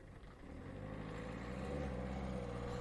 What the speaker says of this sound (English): with a very noisy car